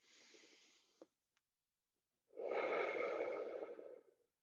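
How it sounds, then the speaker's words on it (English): Breathing during a guided breathing exercise: a soft, airy exhale fades out, then after a short pause a louder, longer, close inhale lasts about two seconds, with no talk. "Breathe out, and then breathe in."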